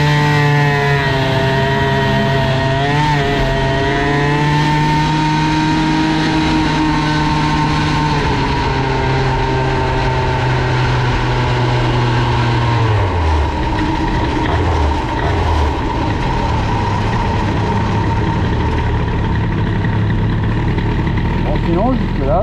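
Moped engine fitted with an Airsal XT 77 kit running at minimal throttle, a steady buzzing drone that shifts in pitch partway through and continues loud and close, with someone talking over it.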